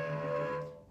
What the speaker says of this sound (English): If you play with kind of a light finger on the D string for E, it's gonna sound like this.